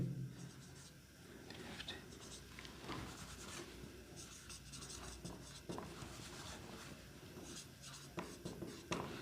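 Letters of the alphabet written on a board, a faint, continuous scratching and rubbing of strokes with small taps, under low room noise.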